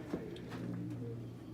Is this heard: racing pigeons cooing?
yes